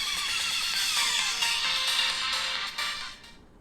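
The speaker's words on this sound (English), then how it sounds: "So here is the V30 looks like with max volume, and V30 also has a single speaker" A Vivo V30 phone plays music through its single loudspeaker at maximum volume, a bright, busy wash of tones that holds steady and then fades toward the end.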